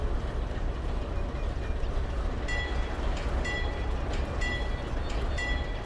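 A CSX freight train in Trainz Railroad Simulator 2019 rumbles steadily along the track in a continuous broadband roar, with faint metallic clicks and squeals recurring through the run.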